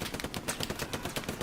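Rapid machine-gun fire in the World War II shooter Hell Let Loose, a dense stream of sharp cracking shots layered with other battlefield gunfire, steady and fairly loud throughout.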